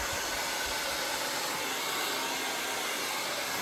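A hair dryer blows steadily and loudly at close range throughout, a continuous rushing whoosh used for blow-drying hair for volume at home.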